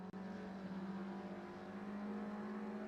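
Race car engine in a touring car sim racing game drones at a steady, fairly high pitch, holding an even whine throughout with no voices.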